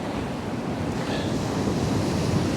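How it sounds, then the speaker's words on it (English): Strong wind buffets the microphone on a beach during surf fishing, a continuous loud roar mixed with the wash of breaking waves, no one speaking. "Obviously I've got the camera low because of the wind."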